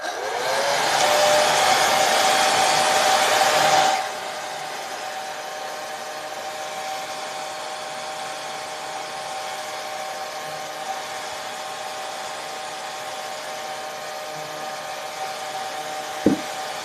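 A hair dryer roars steadily for about four seconds while drying flowers, then cuts off, leaving a lower steady hum and faint room noise with a brief knock near the end.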